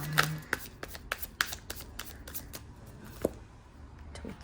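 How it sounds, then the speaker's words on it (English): Tarot cards are shuffled and picked by hand close up, giving a quick run of crisp riffles and papery taps with a few sharper snaps, quiet and with no talking. "let me also pick cards for their energies"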